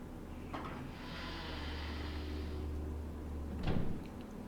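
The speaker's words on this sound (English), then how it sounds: "So we'll use the key on this door." A door is unlocked with a key in the video game Resident Evil Zero, with a brief click, a sustained mechanical grinding as it opens, and a sharper clunk near the end over a low game hum.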